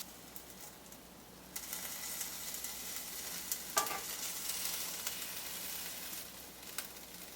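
Burger sizzling on a Delonghi Perfecto indoor grill, a faint steady hiss and crackle that grows after a quiet start, with a sharp scraping or clink midway and another near the end.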